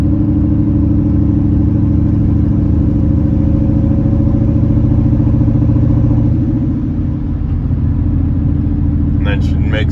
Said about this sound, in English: you can hear the turbo spool up